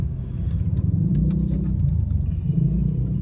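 A car pulls away to collect a ride-hailing passenger at night, its steady low engine and road rumble droning close throughout with a faint jingle of keys and no talk.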